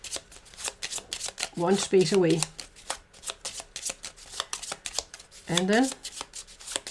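Cards for the Cthulhu Death May Die board game being shuffled, a rapid rippling flutter of cards close by with someone talking over parts of it.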